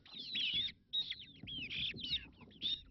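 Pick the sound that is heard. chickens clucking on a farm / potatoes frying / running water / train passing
chickens clucking on a farm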